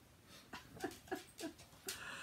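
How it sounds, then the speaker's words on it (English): Shih tzu playing with a ball, giving a few short snuffling huffs and soft whimpery breaths in quick succession, close and quiet. "now the dog's going to play with his ball again"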